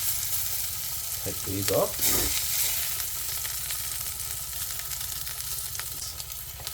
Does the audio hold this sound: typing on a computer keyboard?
no